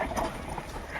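A bull pulling a cart along a road, its hooves striking in a steady, fairly loud clip-clop over a broad rumbling background, with no talking.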